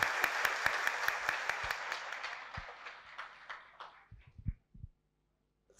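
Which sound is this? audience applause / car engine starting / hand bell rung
audience applause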